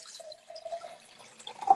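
Water poured to measure it for a coffee percolator makes a faint, brief trickle and a few soft drips, quiet and close, ending in a slightly louder splash.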